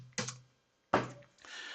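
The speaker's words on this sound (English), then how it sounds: "I was typing out ZBAO." A few quick bursts of keystrokes on a computer keyboard, short clicky clusters separated by a pause of silence, close and moderately loud.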